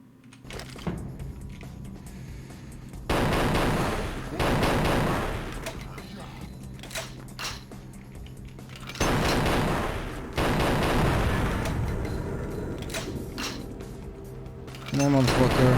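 Gunfire in Vampire the Masquerade: Bloodlines comes in several loud bursts of shots, with a spoken voice heard between the volleys.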